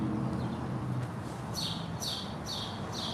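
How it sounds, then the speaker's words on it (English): A bird lets out four quick, bright chirps at an even pace, fairly close, over a steady low background hum. "Why is this bird chirping like this?"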